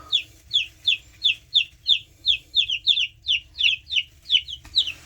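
Baby chicks in a brooder peeping steadily, a rapid run of high, bright cheeps repeating about three times a second, close and clear over a low hum.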